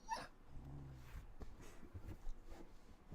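Soft, faint whimpers and yips from a dog named Luna, with small whining squeaks and rustling over a low room background, no talking.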